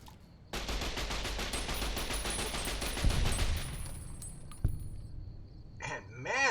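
Rapid automatic rifle fire from a Fallout: New Vegas firefight, a loud continuous burst for about three seconds, followed by a single shot and then a few brief electronic game sounds.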